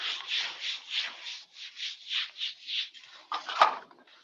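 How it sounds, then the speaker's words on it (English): A marker drawing on a classroom board makes about a dozen rhythmic squeaky rubbing strokes, then a few shorter scratches and taps, close and clear with no talking. "I'm drawing on the board, don't worry about it"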